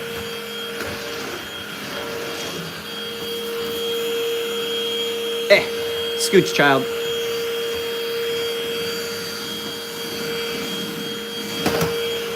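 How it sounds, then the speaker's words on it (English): A vacuum cleaner hums steadily and loudly throughout while vacuuming fake fur off a floor, with a few bumps and scrapes as it moves and a person speaking briefly over it. "Excuse me while I vacuum my floor because it's covered in fucking fake fur."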